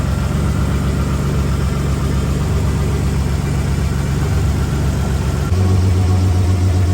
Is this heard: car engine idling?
yes